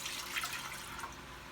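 Cider vinegar pours into a cooking pot in a short, soft splashing trickle, quiet and close.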